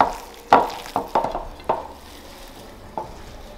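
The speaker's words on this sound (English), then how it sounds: "And mix it thoroughly." Ground meat for lula kebab being mixed by hand in a bowl, a few wet slapping squelches in an uneven rhythm, close, then fading to quiet.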